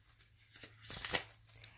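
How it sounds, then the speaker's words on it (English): A deck of oracle cards is shuffled quietly at close range: soft papery riffles and slides in irregular bursts, peaking into a brief louder flutter near the middle before trailing off. "I'll shuffle it one more time."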